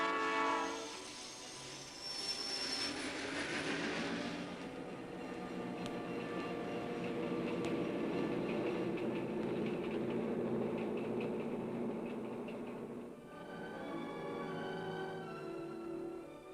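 Train running on a newly opened stretch of the Gyeongbuk Line between Jeomchon and Yecheon in 1966, sounding a long horn at the start, then passing with a steady rumble and rolling clatter that eases near the end.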